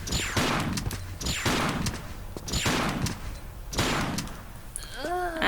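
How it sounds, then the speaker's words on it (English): Gunfire aimed at the player in the Tomb Raider custom level Fading Light, four sharp shots at roughly one-second intervals, loud and close, each followed by a short ring-out, then a brief rising electronic tone. "he shot me without even aiming at me"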